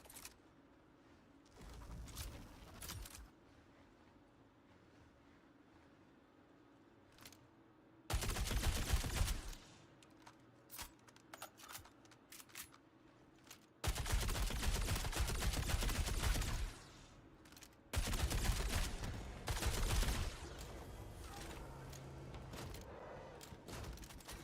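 Bursts of video game gunfire in Storm-A-Thon, from Patriot Industries, lay down suppressing fire. Several loud sustained volleys alternate with quieter gaps holding scattered single shots.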